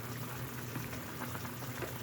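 Adobo simmering in a pot as its liquid cooks down, a close, continuous bubbling boil with small irregular pops and gurgles, no voices.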